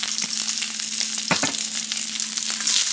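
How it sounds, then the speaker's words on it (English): Fat rendering down in a pan ahead of cooking steaks, a loud, dense, continuous sizzle and crackle with a low steady hum and a few brief utensil knocks. "we're going to check on our fat here, rendering down"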